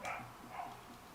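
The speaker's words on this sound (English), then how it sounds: "They're noise cancelling, and I can still hear the dog." A dog barks and yips faintly in the background of a room, a few soft, muffled bursts under a low steady hum.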